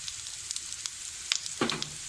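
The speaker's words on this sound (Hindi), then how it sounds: "1 मिनट मैंने शिमला मिर्च को कुक किया।" Capsicum frying in a pan for Aloo Manchurian, a steady faint sizzle with a few brief stirring scrapes and clicks near the end, no talking.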